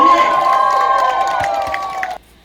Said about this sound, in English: You obviously heard me cheering there when he said that that leadership is about sacrifice.